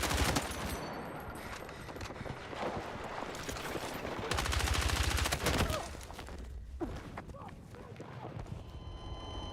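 Rapid automatic gunfire in Battlefield 6, fast crackling shots in dense bursts that swell loudest midway and then ease into scattered shots.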